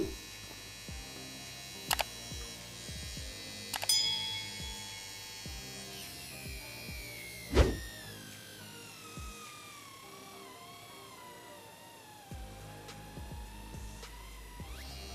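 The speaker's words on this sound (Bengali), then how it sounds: "12 ভোল্টে মোটরটি ভালো স্পিডেই ঘুরছে। এখন শ্যাফট ধরে রেখে লোড বৃদ্ধি করব।" A small 12-volt DC motor whines steadily, then its pitch sags gradually as a hand grips the shaft to load it, with a few sharp clicks and knocks near the start and no speech.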